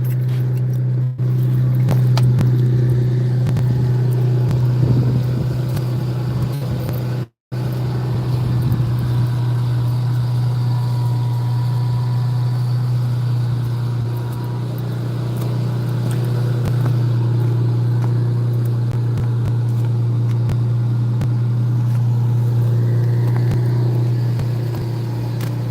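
Steady engine of a 1996 boat idling on a lake, a constant low drone running unbroken near and loud, with a brief cut-out partway through and no talking.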